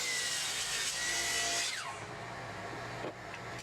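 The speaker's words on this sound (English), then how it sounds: "over at the miter saw trim the top and bottoms to remove the planer snipe at each end" Miter saw trimming the snipe off the ends of a planed wood blank in a woodshop: a loud, steady whining cut that runs on, then drops in level as the blade winds down, with no talk.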